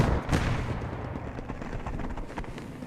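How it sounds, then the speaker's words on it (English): A Churchill tank is destroyed by an anti-tank bomb in the Post Scriptum war game. One sharp explosive blast is followed by rumbling battlefield noise and scattered distant gunfire. "The Churchill finally going down there to a AT bomb."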